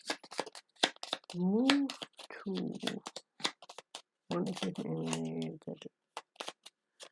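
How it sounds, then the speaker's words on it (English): Playing cards for the Gloomhaven: Jaws of the Lion board game shuffled by hand, rapid crisp riffles in repeated bursts, close and clear, with people talking in between and over them. "I'll shuffle so much that it's just random."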